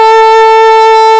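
An alto saxophone holds a single steady middle F sharp, one sustained tone lasting the whole moment, loud, clean and close with no other sounds.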